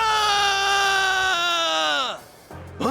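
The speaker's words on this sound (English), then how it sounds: "Wait, did you hear that scream just now?" A long, loud, high-pitched scream in Like a Dragon: Infinite Wealth, held steady then bending downward and breaking off, followed by a brief gasp.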